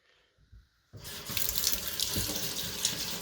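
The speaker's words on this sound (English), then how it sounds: "You got your running water here." Tap water runs into a sink while a fish is cleaned: after a few quiet knocks the faucet turns on and a loud, steady splashing rush continues, close by.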